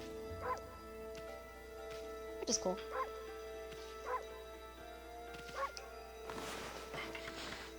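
White wolf in Okami HD letting out small, yappy Pomeranian-style barks, a handful of short bursts spaced across the scene over steady game music, with someone talking over it.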